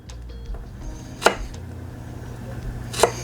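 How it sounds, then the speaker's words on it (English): A knife chops okra into bite-sized pieces on a board, two crisp separate knocks about two seconds apart against quiet room background. "I'm going to just cut them into little pieces like this"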